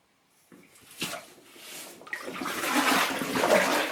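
Legs in leaky waders push through knee-deep water, starting with separate sloshes and splashes and building into a continuous churning swish of moving water close by.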